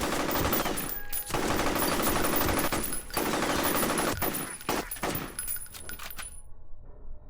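An enemy soldier blind-firing a gun in the shooter game F.E.A.R., heard as dense, loud rapid-fire bursts with sharp cracks and rattling debris that keep going and then cut off abruptly at the end.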